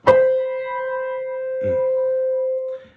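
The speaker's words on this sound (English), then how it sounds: "This is called a major seventh," A struck note rings, then a second note a major seventh away joins partway through, both sustaining together before cutting off; clear and close, no talking.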